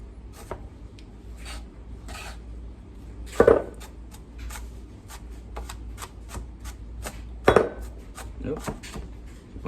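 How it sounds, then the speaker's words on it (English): A knife handle knocks against a bowl while onions are chopped, giving sharp clinks around the middle and near the end over a run of lighter tapping and cutting sounds, with a voice now and then. "Keep on hitting the bowl with my knife handle there."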